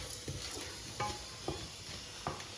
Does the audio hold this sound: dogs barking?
no